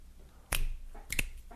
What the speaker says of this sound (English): Oh, dude, I'm snapping my fingers